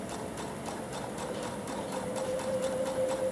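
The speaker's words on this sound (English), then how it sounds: "I'm going to sew this at a 3/8 inch seam with regular cotton thread" A sewing machine stitching quilt binding and piping with regular cotton thread at a 3/8 inch seam, giving a steady, fast mechanical clatter at moderate volume with no voices over it.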